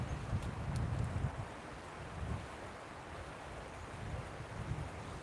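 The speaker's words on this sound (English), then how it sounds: "We just got some wind coming through, guys." Wind gusts buffet the microphone outdoors, producing low rumbling thumps and a broad rushing noise that swell and ease over several seconds, with no talk.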